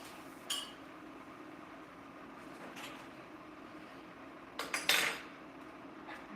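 Metal cutlery clatters in a home kitchen during dinner prep, a few sharp clinks scattered over a quiet room tone, with a louder cluster of rattling near the end.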